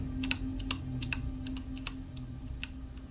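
Computer keyboard keys clacking in quick, uneven bursts while someone plays Subnautica, with a steady low hum underneath and no talking.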